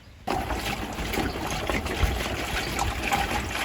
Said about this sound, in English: We actually have a 130 liters water tank, which is very cool, and you just fill it up here like this.